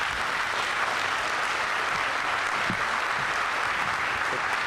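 A crowd applauds at a groundbreaking ceremony for a new airport terminal as Ohio Governor Mike DeWine is welcomed, a steady, full wash of clapping that holds evenly throughout with no voices above it.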